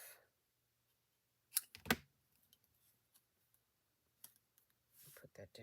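Paper being trimmed for a handmade card, two or three quick sharp cutting clicks followed by faint handling sounds, with a person speaking briefly.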